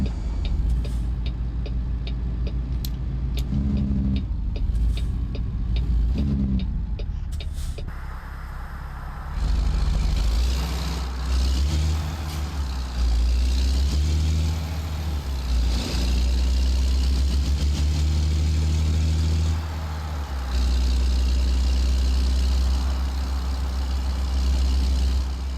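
A truck engine in a driving video game, starting with short bursts and then settling into a continuous loud mid-pitched drone with shifts as it revs and drives.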